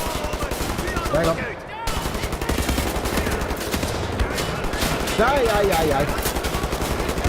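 Wolfenstein: The New Order gunfire clatters in fast automatic bursts, loud and close, nearly continuous for several seconds while someone talks over it.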